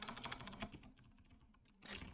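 Fingers type rapidly on a computer keyboard, quiet clicking keystrokes in a fast irregular stream, a short pause, then another burst, with no voice over it.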